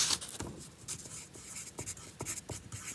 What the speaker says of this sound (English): so let me write this as